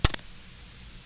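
An underwater glider's altimeter switching on to sense the seabed gives two sharp, quick clicks close together, followed by near silence.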